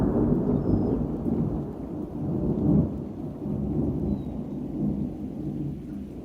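A storm sound effect triggered by a Lumia chat command: rolling thunder rumbles low and heavy under steady rain, swelling in a few places and never fading out, with no voices.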